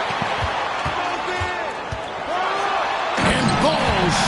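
Basketball game with a ball bouncing in regular thuds on the court under a loud, steady crowd roar and voices, building toward a slam dunk where the crowd noise swells sharply near the end.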